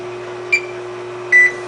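A Cuisinart soft serve ice cream maker's timer sounds two short electronic beeps, the second slightly longer, over a steady motor hum, close and fairly loud.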